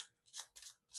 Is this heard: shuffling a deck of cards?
yes